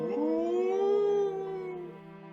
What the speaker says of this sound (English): Good old humpback whale sounds.